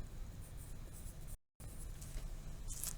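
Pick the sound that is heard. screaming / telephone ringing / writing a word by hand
writing a word by hand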